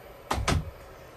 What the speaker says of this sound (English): So we'll kind of open up the door here, turn the light on